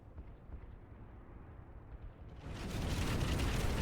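A video game explosion arrives a little late: low rumbling builds, then a broad, loud roaring blast swells in and sustains to the end.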